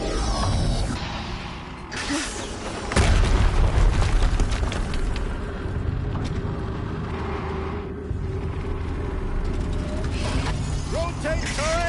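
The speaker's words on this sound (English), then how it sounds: "Another explosion." Explosions and heavy mechanical clatter ring out during combat in the video game Horizon Zero Dawn, a dense, rumbling battle soundscape with a strong boom near the start and continuous grinding machinery throughout.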